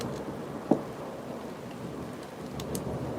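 Rain storm heard from indoors, a steady wash of falling rain with a brief sharp knock early on and faint distant rumbles, no voices.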